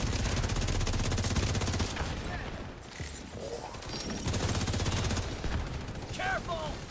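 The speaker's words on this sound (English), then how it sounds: "So he's shooting in the back there." Bursts of gunfire from The Division video game during a PvE farming session, with rapid repeated shots that are loud and sustained for the first couple of seconds, then returning more intermittently with voices talking over the action.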